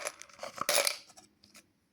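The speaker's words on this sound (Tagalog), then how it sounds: "So, inuhulog ko dito yung barya" Coins clink as they drop into a coin savings bank, a quick cluster of bright metallic hits followed by a few lighter, scattered clinks, close and fairly quiet, with no talking.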